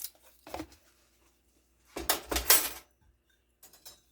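Shredded cabbage with caraway seeds is tossed and mixed in a bowl, giving short clattering, rustling bursts: one brief knock, a longer busy scrape of about a second, then a soft final shuffle, close with quiet pauses between.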